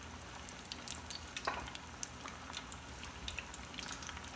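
Three breaded fish fillets deep frying in oil at about 350 degrees: a steady, quiet crackling sizzle with scattered small pops and spits, close but soft, with no talking.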